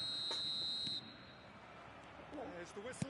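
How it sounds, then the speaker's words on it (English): A referee's whistle in an eFootball match sounds as a sustained high tone for about a second at the start, over a crowd-like background murmur. Faint voices follow. "There's the whistle, and here we go."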